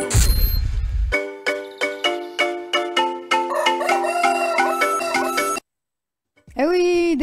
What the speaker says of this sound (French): notre coq vous réveille